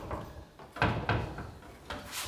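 Newly hung, shimmed double doors on a door frame are swung and bumped shut, giving a few close wooden knocks and thuds with light rattles and brief pauses between them.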